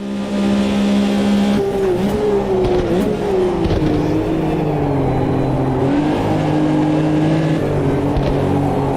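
Porsche race car in a racing video game at Buenos Aires, its engine droning and shifting in pitch continuously, with rival cars and tire noise blending in, loud and steady throughout.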